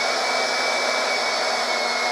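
A Greenworks 40V battery-powered yard tool running at its top power setting 6 gives a steady, loud, high-pitched electric whine and airflow hiss, constant and close with no pauses or voices.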